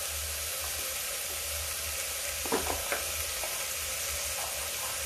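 Mixed vegetables frying in a pan with salt just added, a steady broad sizzle with a few clattering stirs of a spoon around the middle, no talking.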